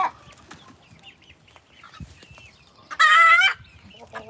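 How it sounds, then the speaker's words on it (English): A farm hen at an animal sanctuary gives one loud, harmonic squawking cluck of about half a second, close by, amid quiet outdoor background and faint scattered noises. "That's gonna be a hen, I think."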